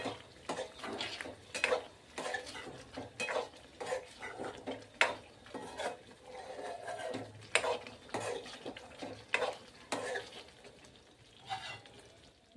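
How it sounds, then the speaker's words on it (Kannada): Egg masala being stirred in a pan at home, with steady scraping and clinking of a spoon against metal and a faint sizzle underneath, repeating in an even rhythm, close and moderately loud. "ಈಗ ಸ್ವಲ್ಪ ಮಸಾಲೆ ಫಿಲ್ ಆಗೋ ಸಲಕ್ಕೆ ತಿರ್ಗಿಸ್ಲತ್ತೀನಿ"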